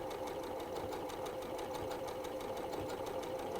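A sewing machine runs a blind hem stitch on dress fabric, alternating a straight stitch in a single layer with small zigzags into the fold, giving a steady, rapid, rhythmic mechanical chatter at low volume throughout.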